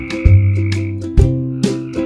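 Loud, deep croaks sound about four times in a steady rhythm, close and clear over a sustained tonal hum, suited to a children's music and movement activity about a little green frog.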